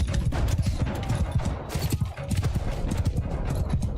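Horses gallop in a video game battle, a dense and loud drumming of hooves over the din of fighting, with clashes and cries mixed in throughout.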